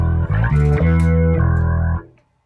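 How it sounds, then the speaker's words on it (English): A loud, sustained electric guitar chord through an effects pedal with the dry signal mixed in, rich and organ-like with a buzzy synth edge, changing notes a couple of times before cutting off. "you get a pretty cool organy type sound, or you can get really synthy"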